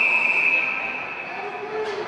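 Referee's whistle at a high school ice hockey game, a sustained shrill tone held for about a second and a half before fading, with rink ambience underneath.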